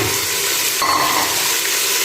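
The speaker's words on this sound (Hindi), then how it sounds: "अभी जो है मैं इसमें डालूँगा ये 2 टमाटर हैं बारीक मैंने काट लिए थे, ये इसके अंदर डालूँगा।" Finely chopped tomatoes drop into a pan of garlic-ginger paste fried with cumin, setting off a loud, steady sizzle with a sharper hiss burst as they land, no talking.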